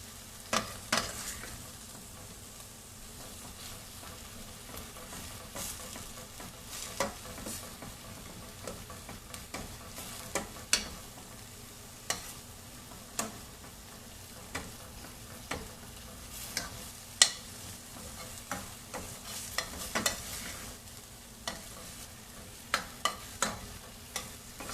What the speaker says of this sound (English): So I'm just trying to smash tomatoes a little more.